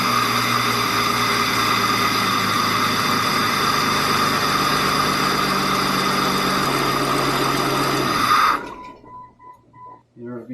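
A car engine runs at a steady, loud idle with a constant drone. It cuts off abruptly near the end, leaving faint intermittent sounds.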